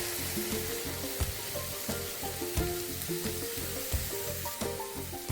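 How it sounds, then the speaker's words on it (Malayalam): Three beaten eggs go into a pan of frying drumstick-leaf (moringa) stir-fry. A steady, close sizzle with crackling pops runs throughout, with occasional soft stirring bumps. "3 മുട്ട നന്നായി അടിച്ചെടുത്താണ് അതിലേക്ക് ഒഴിച്ചു കൊടുക്കാം."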